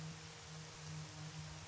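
Steady rain hiss in a racing sim on the Japanese Grand Prix circuit, broad and even with a low engine-like hum beneath, no voices.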